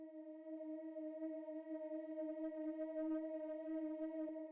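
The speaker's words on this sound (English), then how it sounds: "Then the next thing we have here is this little drone" A steady synthesizer drone holds a single sustained D sharp, even and unchanging, played alone.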